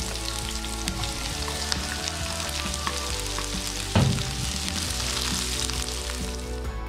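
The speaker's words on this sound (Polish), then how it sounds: "i smażymy cebulę." Steady, close sizzling of onions frying in hot oil, with a brief louder crackle partway through; no voices.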